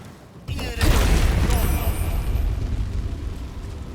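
A Wall of Fire spell in the Baldur's Gate 3 video game ignites with a sudden whoosh, then settles into a loud, steady roaring crackle of flames that keeps burning.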